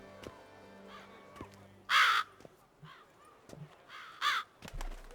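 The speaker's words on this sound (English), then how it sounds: "That's an awful lot of crows. Or ravens, or whatever they're meant to be" Crows or ravens in The Witcher 3: Blood and Wine, two loud harsh bursts of cawing a couple of seconds apart over a quiet ambient game background.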